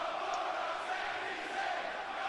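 A large WWE wrestling arena crowd roars and cheers in a steady, dense wall of noise throughout.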